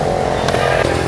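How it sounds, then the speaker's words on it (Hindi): A motorcycle passing on a quiet road, a loud close engine drone lasting about a second with a faint rattle over it. "यहाँ पे ना सब मोटरसाइकिल वाले जितने भी जा रहे हैं"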